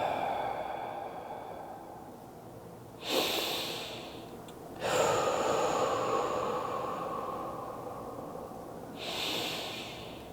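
Deep breaths during a guided breathing exercise, three long breathy exhales or sniffs spaced several seconds apart, close and fairly quiet over a low background hum.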